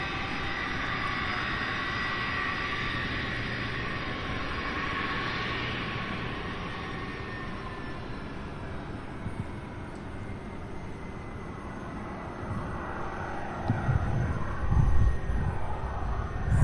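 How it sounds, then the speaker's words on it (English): Airbus A300 and MD-11 jets taxiing at Louisville International Airport make a steady, broad engine roar and whine that holds throughout, growing louder and rougher toward the end, with no talking. "Then we have the A300 behind it, and as those taxi, we have our MD-11."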